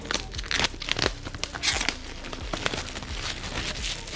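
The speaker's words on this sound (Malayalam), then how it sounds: "സോ ജസ്റ്റ് നമുക്കൊന്ന് അൺബോക്സ് ചെയ്യാം." Crinkling and tearing of premium packaging as a box for Number Super Buds 999 wireless earbuds is opened by hand, with irregular close rustles and crunches throughout, and no talk.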